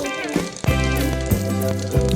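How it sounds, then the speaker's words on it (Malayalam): Mustard seeds crackle and pop in hot coconut oil in a pan covered with a vessel, with steady close frying sizzle and a few sharper pops, no talking. "കടുക് പൊട്ടി മുഖത്തേക്ക് തെറിക്കാതിരിക്കാൻ വേണ്ടിയിട്ടാണ് ഒരു പാത്രം വെച്ച് അടച്ചു കൊടുത്തത്"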